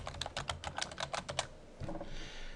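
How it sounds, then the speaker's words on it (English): Quick, close clacking keystrokes on a computer keyboard, about ten crisp taps in a fast burst, then a short pause and a couple of softer keypresses with faint background hiss. "Here I'm typing google.com."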